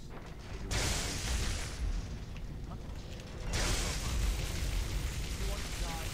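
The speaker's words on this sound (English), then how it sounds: "So we're just going to go ahead and pull the chain here." A chain pulled to open a gate in a fantasy video game, a long grinding mechanical rattle and creak with a pause, then resuming, fairly loud over a steady ambient bed.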